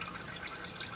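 Engine oil from a 2007 Honda Fit GD with an L15A engine drains from the drain plug hole, a steady soft liquid trickle heard close and alone.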